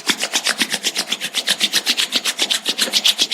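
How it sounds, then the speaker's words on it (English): Palms rubbed briskly together during a meditation session, a close, loud rhythmic swishing of quick back-and-forth strokes, steady and continuous. "let's generate some energy between our palms by rubbing our hands against each other"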